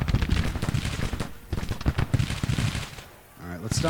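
Massed battalion musket volleys from a Civil War strategy game crackle in dense, irregular bursts through most of the clip, loud and close, easing briefly near the end before picking up again, with a voice talking over parts of it.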